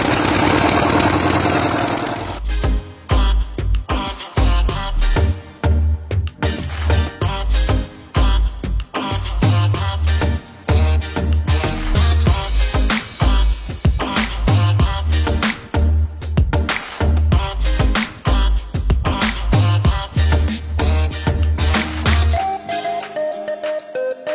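A fishing boat engine on a river in the Sundarbans catches abruptly and then runs loud and close with a steady, rapid, knocking chug that persists until it cuts off near the end.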